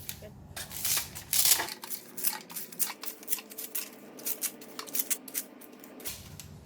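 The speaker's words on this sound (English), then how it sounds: "just cut the pandan already" Crisp, rapid snipping of about ten large pandan leaves being cut for a coconut pandan jelly, with dense clusters of short cuts that are loudest early on, then steady close-range snips with no talking.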